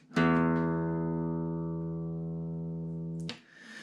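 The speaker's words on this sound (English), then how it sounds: "So the 6th string here, when it's tuned correctly, is tuned to the note E." A classical guitar's open low E string is plucked and rings out steadily for about three seconds before being muted, clear and close.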